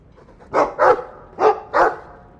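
A Mabari war dog in the Dragon Age 2 video game barks four times, loud and close, in two quick pairs over a quiet background.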